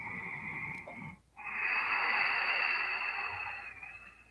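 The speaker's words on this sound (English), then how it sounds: "Let's do a few breaths." Slow, deep breathing during a yoga practice, a long airy exhale, then a brief pause before a long, steady inhale with a faint wheezy edge, heard close and alone.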